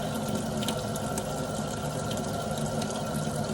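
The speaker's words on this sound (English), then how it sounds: "I'm gonna run it in the hot water for a few." Hot water runs steadily from a tap over a sponge during first aid wound cleansing. The rushing, splashing stream stays close and constant, with no talking.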